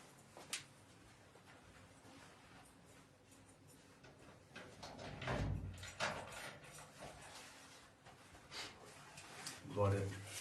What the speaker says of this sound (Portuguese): Irmãos, só vou fechar a porta aqui, que o vento abriu aqui